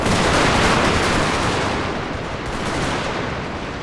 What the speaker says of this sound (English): Also the artillery here is probably like doing a lot of work to help out.